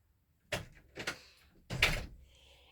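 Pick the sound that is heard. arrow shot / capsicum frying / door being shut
door being shut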